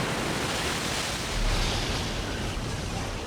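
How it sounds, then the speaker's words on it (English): Winter storm waves pound the coastline at the Cape of Good Hope in a continuous, heavy roar of surf and wind that swells slightly midway. "Winter storms work their way north from Antarctica and pound a battered coastline"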